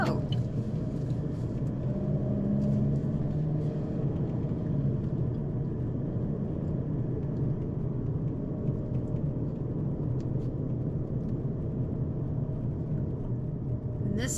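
Steady low engine rumble and road noise from inside a car cruising down a small town's main street, continuous throughout with faint background sounds and a voice talking now and then.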